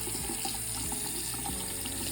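Hot water runs steadily from a tap after a hybrid water heater install, a constant hissing splash of flow close by, with no talk.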